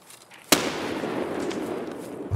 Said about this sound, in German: Hast du eine Granate geschmissen?